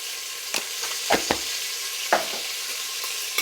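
A breakfast mixture with rock salt is stirred in a hot pan, a steady sizzle broken by a few sharp scrapes and knocks of the spoon against the pan.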